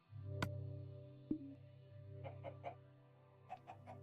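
Chicken clucking in the video game Minecraft on Xbox 360, a few short clucks scattered over a steady low background hum, fairly faint and with no talking.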